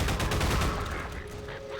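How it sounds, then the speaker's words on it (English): A grenade explosion in Half-Life Alyx bursts loud and close, a rough broadband blast with crackling debris that decays over about a second, with a faint tone lingering after. "I just had a grenade go off, like, right next to me"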